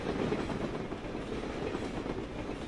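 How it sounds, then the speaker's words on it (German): A train rumbling past a house in the video game Drug Dealer Simulator, a steady, dense low roar with faint rhythmic wheel clatter that holds evenly throughout, with no voices. "Alter, wie mein Haus wackelt, wenn der Zug durchfährt."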